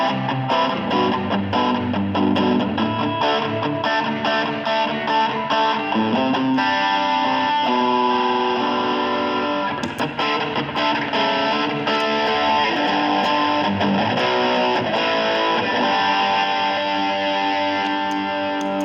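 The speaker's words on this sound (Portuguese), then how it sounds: "Esse aqui é o TS9." Electric guitar played through an Ibanez TS9 overdrive pedal, a warm, gritty driven tone with sustained chords and riffs, loud and continuous, with no talking.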